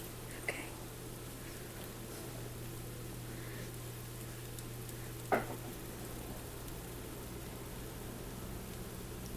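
Homemade pancakes sizzle on a stove, a faint, even hiss under a low steady hum, with two brief clicks of the spatula or pan partway through.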